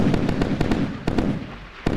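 Missile strikes burst in the naval combat game Sea Power as Soviet missiles hit a US convoy, a rapid series of sharp cracking explosions, some close together and others spaced apart, ringing out loud and fairly close.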